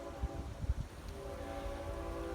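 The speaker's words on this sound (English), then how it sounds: "There's a train coming." A train passing nearby outdoors, a low steady rumble with faint tonal horn-like hum building and holding across the whole stretch at moderate level, with a couple of brief thumps early on.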